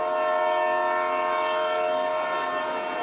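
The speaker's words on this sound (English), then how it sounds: "This is the country's Future Express train" The Future Express train stands at Nankang station in northern Taiwan, giving off a steady, close tonal drone with a constant hum that runs unbroken throughout, no voices.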